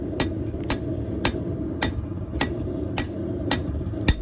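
Hammer blows fall on hot steel as a knife blade is forged and drawn out, eight sharp ringing strikes at an even half-second rhythm, close and loud.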